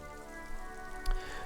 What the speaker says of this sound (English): Rain falls down on the world.